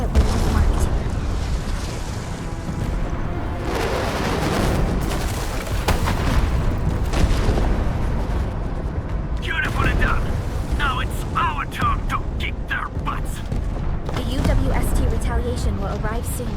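Artillery fire from the UWST in Arknights Endfield: deep booming blasts and cracking impacts roll under continuous talk, with a cluster of sharper crackling bursts partway through, all set against a dense, loud battle backdrop.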